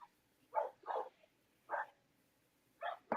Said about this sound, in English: You got a dog And barking in the background.